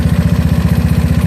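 A GY6 scooter engine fitted with an OKO PWK 30mm carburetor runs at a steady, even idle, a loud, close, rapid low thumping pulse with no voices.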